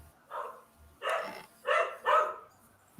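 A dog barking nearby during a podcast recording, four short barks in an uneven sequence, the first softer and the last three louder and closer together, with no talk over them.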